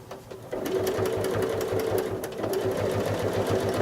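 A sewing machine doing free motion quilting, stippling and echo shells, starts up after a brief quiet moment. It then runs at a slow, careful pace, giving a loud, close, steady mechanical whir with a rapid pulsing stitch rhythm.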